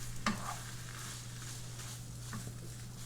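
Creamy enchilada filling stirred in a pan on a hot stove, with a soft steady sizzle and a couple of brief spoon scrapes against the pan, quiet and close.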